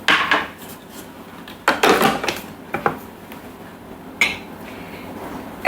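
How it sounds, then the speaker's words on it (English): The lid goes back onto a Thermomix mixing bowl with a few sharp plastic clacks and knocks, scattered over several seconds, close by and with no talking. "now we're going to pop the lid back on."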